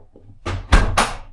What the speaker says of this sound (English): close the door behind you